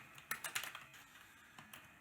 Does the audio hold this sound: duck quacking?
no